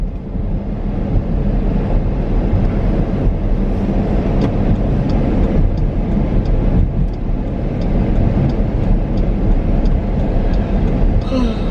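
Road traffic rolls past in a continuous broadband wash of tire and engine noise, fairly loud and close, with wind buffeting the microphone and a few faint higher tones.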